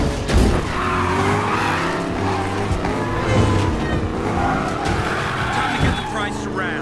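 Koenigsegg Regera in Need for Speed Payback roaring and skidding, loud engine drone with tire squeal and scrubbing throughout, shifting pitch, voices talking over it.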